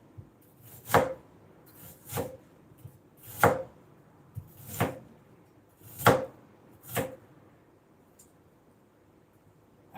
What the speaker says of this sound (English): I'm using the knife to help me peel the garlic.